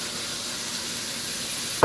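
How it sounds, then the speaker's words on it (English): Cabbage dropped into a pot of sautéing minestrone vegetables, giving a soft continuous sizzle and hiss with a brief louder clatter at the very end. "I'm going to go ahead and add my cabbage"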